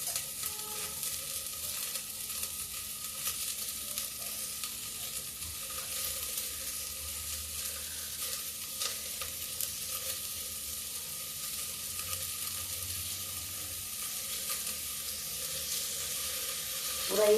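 Cabbage and tomato fry in a pan over a low gas flame with a steady close sizzle and occasional stirring, no voices over it.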